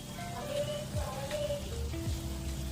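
Homemade ghee from buffalo milk cream bubbles and sizzles in a pan as a steady, moderately loud crackle, with faint tonal hums and a couple of brief scraping sweeps.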